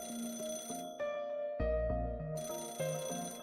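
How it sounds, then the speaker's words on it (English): A phone ringtone plays a bright repeating electronic melody of short chiming notes, clear and close, with no voices over it. "Oh, we got a phone call."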